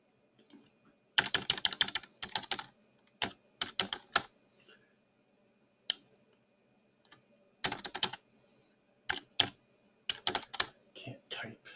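Quick bursts of clicky keystrokes on a computer keyboard come in short clusters separated by pauses, close and fairly quiet, with faint low background hum between runs.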